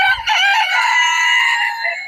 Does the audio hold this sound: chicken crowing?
yes